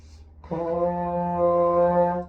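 A single sustained trombone note F, steady and full, beginning after a brief pause and holding for about two seconds before ending.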